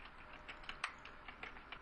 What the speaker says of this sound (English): We begin typing in gorilla.